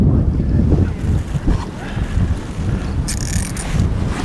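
Strong wind gusts buffet the microphone outdoors by a fishing lake, a loud, continuous low roar with rustling bursts and no speech.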